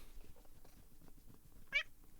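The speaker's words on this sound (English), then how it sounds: "There's a cat." A pet cat gives a single short, faint meow near the end, over quiet room background noise.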